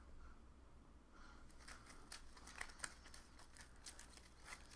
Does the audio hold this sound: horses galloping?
no